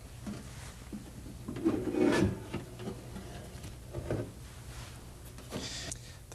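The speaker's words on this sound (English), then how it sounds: "There are 5 screws you have to remove on the outside of the case, 2 on each side of the machine and 1 in the very rear of the machine." Screws being removed from an Amiga computer case, with scattered scraping and rubbing noises, a louder burst of grinding and a few lighter scratches against faint background hiss.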